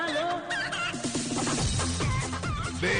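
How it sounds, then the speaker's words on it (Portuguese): A rooster crows loudly and continuously for about three seconds, a drawn-out cry during a Brazilian radio broadcast. "Galo."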